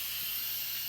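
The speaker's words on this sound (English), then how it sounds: "It's currently on sealed. We're gonna go to venting." Steam venting from an Instant Pot pressure release valve after partial natural release, a continuous bright hiss at steady loudness, close and unbroken for about a second, with no voices.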